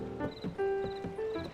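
A horse in Zelda: Tears of the Kingdom clops its hooves in a quick rhythm and gives short whinnies, close and clear, with no voices.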